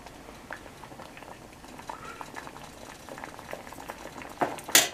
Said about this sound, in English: get tomatoes, coarsely chop them up to boil them